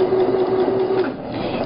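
A sewing machine stitches a seam on a fabric tote bag, a loud close mechanical whir running steadily for about a second before slowing and easing off.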